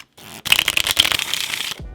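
A deck of playing cards is riffled and shuffled during a close-up card trick, a quick crisp flurry of flicking card edges lasting about a second and a half, with short pauses before and after.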